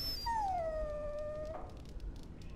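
A dog in the video game Dragon Age: Origins gives a single drawn-out, high whimpering whine that slides slightly downward and fades after about a second, over a steady low background hum.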